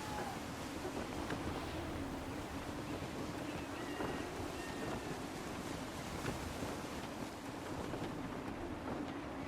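A ship runs under gusty wind in Assassin's Creed 3, a constant dense roar of wind and rushing water holding at one level throughout.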